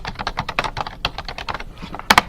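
Quick computer keyboard typing to fill in sheet title fields, a close run of sharp key clicks with a short pause and a final pair of louder keystrokes.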